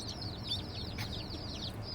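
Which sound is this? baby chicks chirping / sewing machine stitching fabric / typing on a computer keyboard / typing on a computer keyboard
baby chicks chirping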